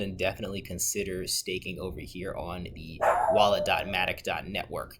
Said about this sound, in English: sorry about the dog barking right there